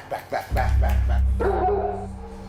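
A dog playing a zombie dog on the set of Resident Evil gives two short sharp barks, then a sustained growling bark with whimpering tones, loud and near.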